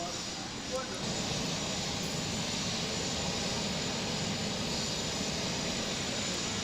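Boeing 737 jets at Lanseria International Airport in South Africa give off a steady, broad roar of engine noise that stays level throughout, with a voice faintly talking over it.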